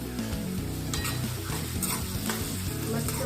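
Food sautés in a hot pan with a loud, dense, continuous sizzle close by, steady throughout, with faint stirring underneath.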